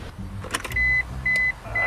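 A Cadillac with a dead battery fails to start: a strained electric whirring repeats in three short bursts with a steady high whine, after a few brief clicks, close and fairly loud.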